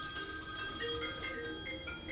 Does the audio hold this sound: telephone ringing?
yes